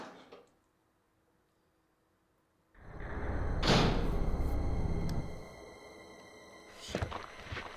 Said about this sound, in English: So we'll just open up this door, it's unlocked.